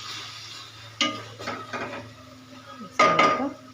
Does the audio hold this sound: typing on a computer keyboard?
no